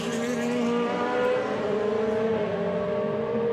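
DTM race cars easing off through the NGK chicane at the Nürburgring during qualifying, a steady mix of engines droning and downshifting together, with pitch sliding gradually over a constant close, loud roar.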